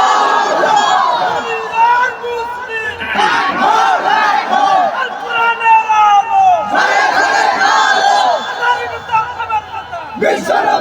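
A large crowd at an outdoor religious gathering roars takbir in unison, three loud surging waves of massed shouting that rise, hold and fade, with one final burst starting at the end.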